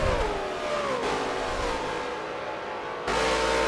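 Race cars drive a track during a race finale, their engines whining loud and close with rising and falling pitch through gear changes, and a fresh surge of revving near the end.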